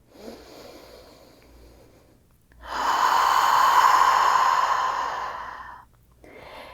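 A long, deep exhale during a third-trimester prenatal yoga session: a short soft breath in, then a sustained, close airy breath lasting a few seconds, followed by another quieter breath.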